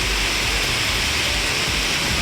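A hailstorm with strong winds in Valparai makes a dense, steady, loud roar of hail and gusting air that fills the whole moment, with no voices.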